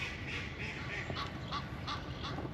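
A duck by a lake in a park gives a run of about seven evenly spaced nasal quacks at moderate distance over steady outdoor background noise.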